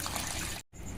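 Water draining out of soaked mung and urad dal in a strainer, a dense rushing gush that cuts off for an instant and then resumes.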